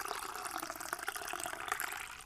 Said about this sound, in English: Pour myself a big cup.